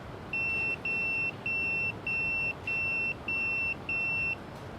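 A phone rings in the Yakuza 0 video game with seven even electronic beeping bursts, each about half a second long and separated by short gaps. The ring is clear and steady over a low background hum.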